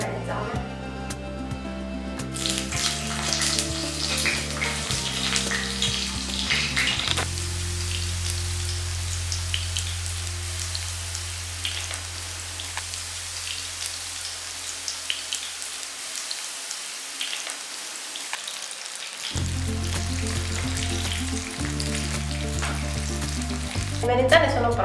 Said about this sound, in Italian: E adesso inizio a friggere le melanzane.